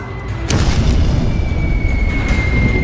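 A 250 kg bomb blasts through the decks of the aircraft carrier Enterprise: a sudden loud boom at about half a second, then a sustained, heavy roaring rumble that carries on at full loudness with no voices.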